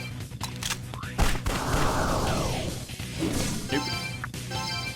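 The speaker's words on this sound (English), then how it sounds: "let's try regular bullets" Video-game gunfire with regular bullets in Devil Summoner: Raidou Kuzunoha vs. the Soulless Army, a loud burst of sharp shots followed by a crashing impact that rumbles on for a couple of seconds, then scattered smaller hits.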